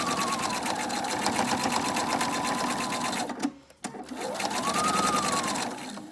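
A sewing machine stitches fabric for a Bible cover, running steadily and close at a fast even rhythm, pausing briefly midway before resuming the same whirring pace.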